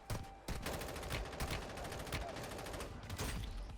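Dense, sustained gunfire in the mobile shooter Warzone Mobile, overlapping bursts and rapid shots crackling loudly and almost without pause, with faint scattered talk barely under it.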